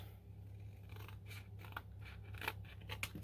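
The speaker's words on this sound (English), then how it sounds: "the next step is to cut right along the bottom of the rope in a straight line straight across" Scissors cut across printed paper in a straight line, a run of quiet snips and crisp rustles, close by over a low steady hum.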